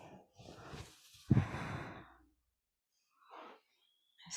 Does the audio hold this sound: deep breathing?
yes